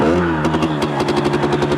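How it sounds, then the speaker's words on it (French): A Sherco 50cc motorcycle with a fault is kick-started, and its small engine catches into a loud, close, rapid clattering putter. "il faut faire un peu de kick pour la démarrer"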